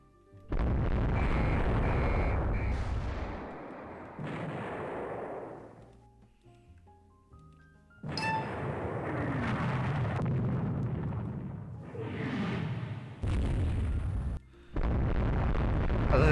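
Heavy battlecruiser naval guns firing in Rule The Waves 3: a series of loud, booming salvos with long rumbling tails, separated by brief quieter gaps.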